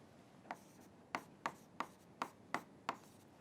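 Chalk or pen taps out a physics calculation in quick, even strokes, seven crisp close marks spaced about a third of a second apart, with no talk.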